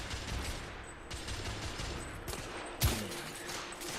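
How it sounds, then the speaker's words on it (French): Automatic weapon gunfire in the video game The Order 1886 comes as dense rapid bursts over several seconds, with a sharp louder crack near the end. "C'est une arme auto."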